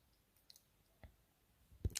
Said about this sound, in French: Je vais cliquer sur OK.